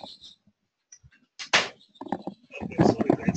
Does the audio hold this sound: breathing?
no